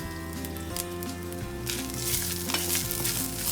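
Grated coconut frying in a pan for sheer khurma, a steady close sizzle and crackle with scraping stir strokes throughout and no talking.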